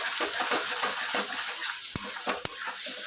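Spice masala roasting in oil in a pan on a low flame, with a steady bright sizzle throughout and a few sharp clicks of a spoon against the pan.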